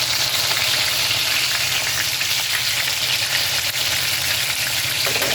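Breaded pork chops fry in a pan with a loud, continuous, close sizzle and crackle that holds steady throughout without pauses.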